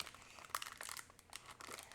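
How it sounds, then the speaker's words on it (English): A knife, still greasy from cutting butter, stabs and tears into a crinkly plastic package of cornstarch, giving a quiet run of crackling crinkles and a few sharper punctures, close by. "Get this thing open. I'm just going to stab it with the knife I used to cut the butter."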